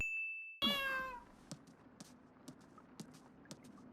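A cat in an anime scene gives one clear, drawn-out meow, followed by quiet scattered clicks and light taps.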